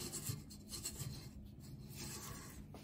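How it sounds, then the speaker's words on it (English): A spatula scrapes flour off the sides of a mixing bowl for biscotti dough. Soft, continuous rasping and rubbing strokes, quiet and close, with no one talking. "I do like to lift and get the bowl scraped to get any of that additional flour off of the edges"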